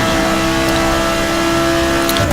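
Race car engines in the Forza video game make a loud, sustained drone with steady engine harmonics and a brief rise in pitch near the end, like cars pushing hard around a track.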